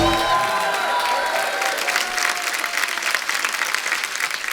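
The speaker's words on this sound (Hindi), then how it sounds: "जोरदार तालियां" A studio audience at a comedy show bursts into loud, sustained applause with some cheering, a dense wash of clapping that tapers slightly while musical tones fade out at the start.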